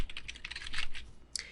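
Typing a username and password on a computer keyboard, a quick burst of close, crisp key clicks in an uneven rhythm, then a short pause and one final keystroke, with no talking.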